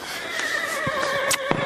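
Horse neighing during reversing training for carriage driving, a steady whinny with tonal bands over the whole stretch and a few brief hoof knocks, fairly close and with no talk.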